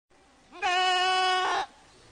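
A single goat gives one loud, clear, sustained bleat lasting about a second on a high mountain grassland pasture 1050 m up, close to the listener, with faint background noise before and after.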